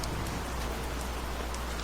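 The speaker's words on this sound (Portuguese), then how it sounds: "Agora, a chuva caía com mais força." Heavy rain pours steadily during a thunderstorm, a dense, even hiss with no pauses and no voices.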